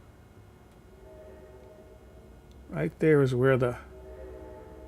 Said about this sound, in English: Yes, that's a train going by.